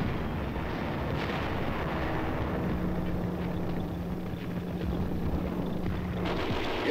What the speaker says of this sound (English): Enemy fire is encountered.